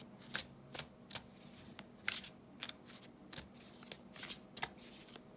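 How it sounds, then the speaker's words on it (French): Tarot cards being shuffled by hand, a series of crisp riffling bursts at an uneven rhythm with quiet pauses in between, close and clear with no talking. "On va brasser encore un peu."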